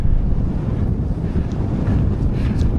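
Strong wind gusts buffet the microphone on the exposed Helvellyn mountain ridge near Striding Edge, a loud, continuous low roar with no voices.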